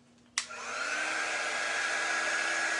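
A hair dryer switches on with a sharp click and then blows in a continuous loud whoosh, drying chalk paint on a boutique board at close range.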